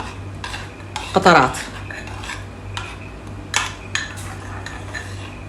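A spoon stirring and clinking against a bowl as a hair oil and shampoo mixture is mixed, with a brief scraping burst near the start and a few lighter taps later, over a steady low hum.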